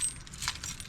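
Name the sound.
collection of keys jangling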